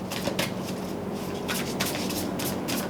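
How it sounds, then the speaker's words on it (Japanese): Oracle cards being shuffled and drawn for a Scorpio tarot and astrology reading, heard as soft repeated riffling bursts at close range over a steady hiss, with no talking. "最後にもう一枚オラクルカードを引かせてください"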